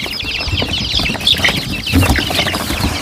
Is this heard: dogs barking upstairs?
no